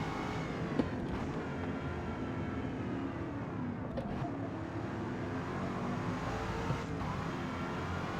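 An older Ford Mustang in Forza Motorsport drives on track with a steady engine drone that shifts in pitch, close and continuous, with no voices.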